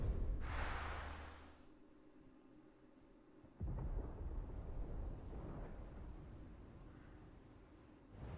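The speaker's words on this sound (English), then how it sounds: "Sounds like thunder." Thunder rumbles in the video game Final Fantasy XVI, faint and low, with a soft roll at the start and a second deep rumble swelling partway through, set against quiet ambience.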